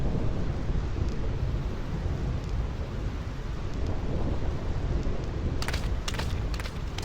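A constant thunderstorm on the Thunder Plains in Final Fantasy X HD on PS4 gives dense, loud rain and low rumbling thunder throughout, with a few sharp crackling lightning strikes near the end.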